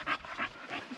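A pup pants in quick, breathy bursts close by, about four rhythmic puffs in a second, with no talk over it.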